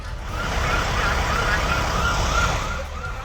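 A fire brigade siren wails steadily at a workshop fire, its rising and falling tone fairly loud over a rumbling traffic background, with no voices.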